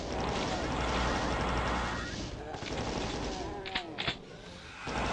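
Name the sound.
gunfire from enemies in the video game Doom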